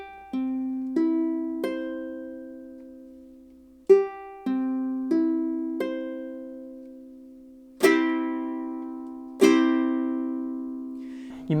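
Single ukulele notes fretted at the third fret of the first string, plucked about eight times alone with clear ringing decay, the last few struck harder and brighter.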